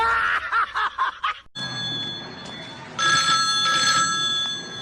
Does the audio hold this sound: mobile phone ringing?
yes